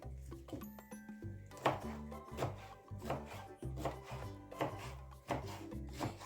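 Korean-style cabbage salad being chopped with a knife on a board, a series of quiet, irregular cutting strokes and thuds close by, with no talking.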